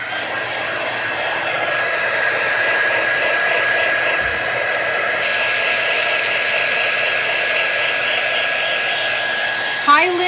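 A hair dryer blowing on the back of a stenciled wall hanging, a loud, steady close-up whir with a continuous high whine that holds throughout and ends with a brief click.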